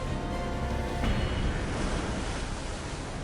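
Sea waves roll and wash continuously in a broad, loud surf roar near a fishing village shore, with a slight swell around the one-second mark and no voices.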